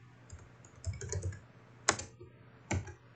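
Scattered keystrokes on a computer keyboard, a few soft taps followed by two sharper clicks, close and irregular, with no voices.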